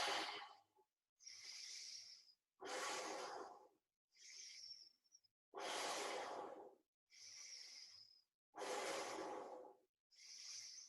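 Slow, audible yoga breaths held in a pose, about eight close breathy inhales and exhales alternating in steady rhythm with short silences between, some carrying a faint nasal whistle.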